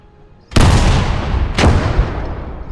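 Two heavy artillery blasts in the World War II game Gates of Hell, the first at about half a second and the second a second later, loud and close, each followed by a long rumbling decay.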